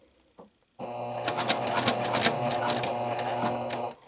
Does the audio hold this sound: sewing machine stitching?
yes